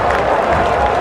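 A large cricket crowd in Hamilton roars and applauds during a chase against Australia, a dense, loud wash of cheering and clapping with no single voice standing out.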